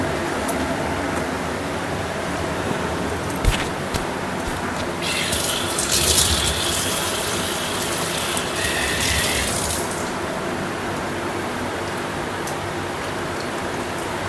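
Tap water runs steadily into a sink while rice is rinsed by hand for payesh, with a brief louder splashing burst midway and no talking.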